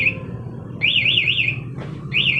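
A Honda Sonic motorcycle's anti-theft alarm shrieks loud and close, repeating a warbling siren tone in bursts with brief gaps between them.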